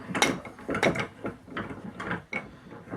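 A threaded insert being driven into wood with its matching fastener, giving close, uneven creaks and scraping mechanical clicks as it turns, in short repeated bursts.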